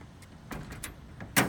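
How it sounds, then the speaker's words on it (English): A school bus door swings shut, ending in one loud, close thud with a short rattle, after a few fainter clicks and knocks. "Shut this door."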